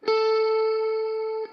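A single sustained electric guitar note on the B string, 10th fret, rings out clean and steady for over a second before being cut off, with no talking.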